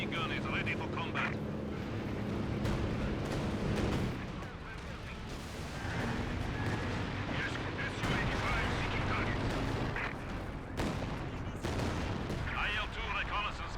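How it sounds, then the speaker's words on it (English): Anti-tank gun firing in a combat video game: repeated booming shots and distant gunfire over a steady battlefield rumble, with a voice speaking throughout. "AT gun is ready for combat."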